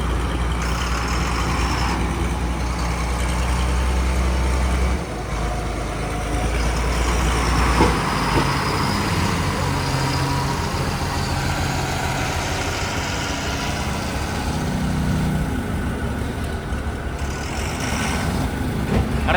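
A heavy truck at a sugar factory, its engine droning loud and steady with a tyre spinning and grinding, continuous throughout with a brief dip partway.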